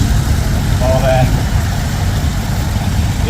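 A John Deere tractor engine idles and chugs steadily as the tractor enters the show arena at a steam show, a mid-pitched running engine heard under a loudspeaker commentator's voice.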